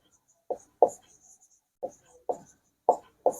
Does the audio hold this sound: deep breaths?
no